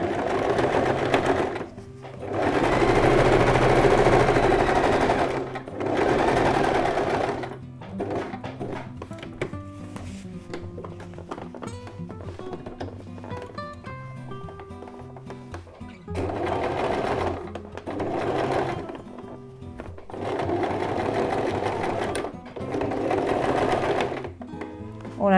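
Sewing machine stitching around the edge of a reversible, roll-up placemat with a pocket, running in loud sustained bursts separated by brief pauses, with clicks and handling sounds of fabric between stretches of stitching.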